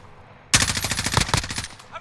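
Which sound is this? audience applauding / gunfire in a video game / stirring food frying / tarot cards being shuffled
gunfire in a video game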